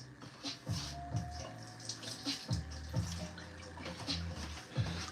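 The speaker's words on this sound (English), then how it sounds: "Let's go dump this water out." Rice rinse water poured out of a bowl into a kitchen sink, a repeated splashing gush in short bursts, fairly close and moderately loud, with no talking.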